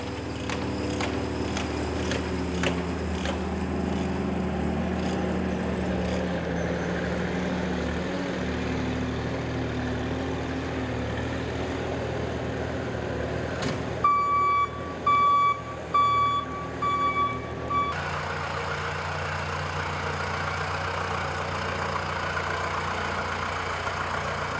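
John Deere Gator utility vehicle idling while pulling a ground-drive bedding spreader over a manure pack in a Wisconsin dairy barn, a steady mid engine rumble with a run of evenly pulsed reversing beeps midway.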